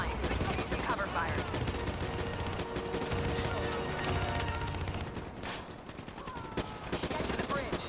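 Dense gunfire in Call of Duty: Black Ops III, rapid overlapping shots and bursts of automatic fire that keep going through the whole stretch, loud and busy, with scattered mechanical clanks and brief character voices mixed in.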